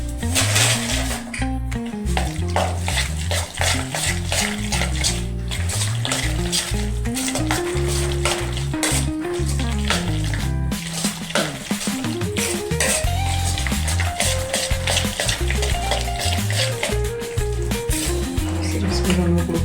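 Gapgola fritter batter, mixed with a pinch of baking soda, sizzling and frying in hot oil, a continuous bubbling hiss under loud background music.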